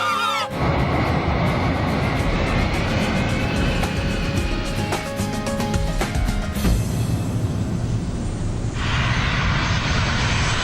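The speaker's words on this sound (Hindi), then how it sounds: "हमने इतने कम डिस्टेंस में लैंडिंग की है कि अगर हम पूरी फोर्स से भी ब्रेक लगाए तो प्लेन रनवे पे नहीं रुकेगा" Airplane landing on a short runway, with a loud, steady engine roar and rumble filling about ten seconds, rising in pitch near the end, heard alone without voices.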